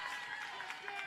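Spectators at a high school baseball championship game in West Raleigh erupting after a foul ball, a short burst of clapping and cheering from the stands, crowd noise filling the whole moment.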